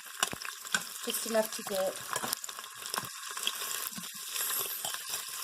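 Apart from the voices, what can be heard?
kielbasa browning in hot vegetable oil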